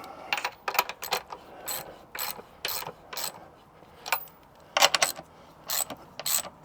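Chains on an anvil stand are tightened with a ratcheting tool, giving irregular bursts of sharp metallic clicks in close, loud clusters separated by brief pauses.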